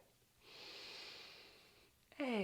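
A long, smooth inhalation during a yoga session, drawn steadily for over a second and a half, followed by a voice beginning to speak.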